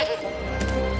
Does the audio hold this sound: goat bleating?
yes